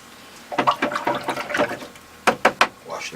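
A paintbrush swished and rinsed in a water jar while painting a calla lily in watercolor, a run of quick sloshing strokes followed by three sharp separate taps or splashes, close and alone.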